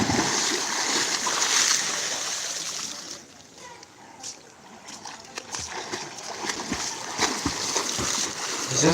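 Water splashing from a person doing a normal swimming stroke in a pool during a swimming lesson, steady splashes and churning water with a brief quieter lull midway, close by.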